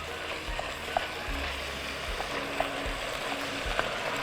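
Krecek stir-fry sizzles softly in a pan while being stirred, a quiet steady frying hiss punctuated by a few faint clicks of the utensil scraping the pan.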